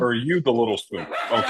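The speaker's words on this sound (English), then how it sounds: "sorry about my dogs." Household dogs bark and yip close by in short, overlapping bursts while a person keeps talking over them.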